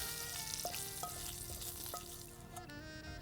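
Hot tempering of asafoetida and curry leaves sizzling as it goes into batter, a steady, dense frying hiss with faint clinks, continuous and close throughout.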